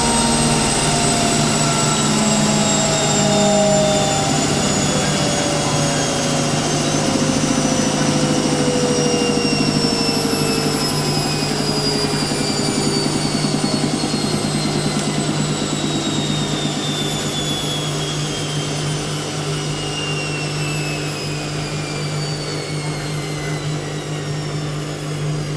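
An Indesit IWME146 integrated washing machine runs its FlashClean 50ºC programme, giving a loud, steady whirring drone with tones that slowly fall as the drum spins down. No one speaks.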